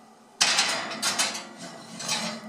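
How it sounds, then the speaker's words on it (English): Keto lasagna in its baking dish set back into a home kitchen oven, a sharp clatter of cookware at the start followed by a few softer knocks and rattles, close and moderately loud. "Now we have to put it back in the oven and bake it for 20 minutes."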